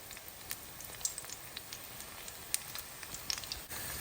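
Batch of food frying in a pan during home cooking, a steady soft crackling sizzle with scattered pops, fairly quiet and continuous with no voices.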